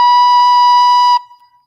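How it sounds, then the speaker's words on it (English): A recorder sounds a single steady note B, bright and close, holding for about a second before stopping abruptly and leaving a short decaying tail. "we're going to be asked to be playing B on the recorder"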